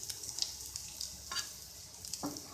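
Chicken kebabs shallow-fry in a pan with a steady, close hiss of sizzling oil, dotted with small pops and a few stirring or turning scrapes, no talking.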